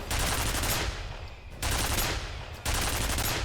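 A turret in the video game F.E.A.R. fires three loud sustained bursts of rapid gunfire, each cut by a short pause.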